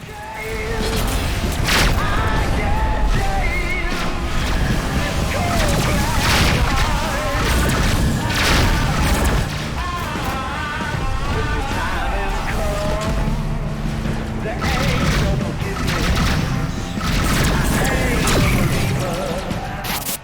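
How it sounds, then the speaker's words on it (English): Rebel Galaxy spaceship combat with engines at maximum thrust, a loud continuous roar packed with booms, crashes and explosive impacts, layered with game music and bursts of synthetic voice callouts. "Engines at maximum."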